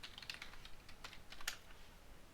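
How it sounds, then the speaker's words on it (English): A formula is typed on a computer keyboard: quick, light key clicks in uneven bursts, close and fairly quiet, with no speech. "If I paste this formula here and I type transpose."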